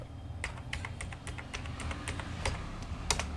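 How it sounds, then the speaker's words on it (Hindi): Fingers tap digits of a 12-digit Aadhaar card number on a computer keyboard while entering it into an MS Excel sheet. The keystrokes are close, crisp and steady, clicking in quick irregular bursts over a low background hum. "तो यदि आप यहाँ से 12 अंक टाइप करते हैं"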